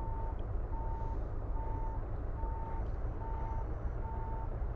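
A truck backing a trailer in Euro Truck Simulator 2 sounds a steady reversing alarm, six evenly spaced beeps, over a continuous low diesel engine rumble with no talking.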